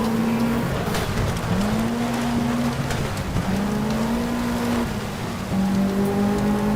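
A rally car in Sega Rally slides through a handbrake drift. The engine drones and rises in gear-shifting steps, and gravel hiss and tire scrub run continuously underneath at close, loud range.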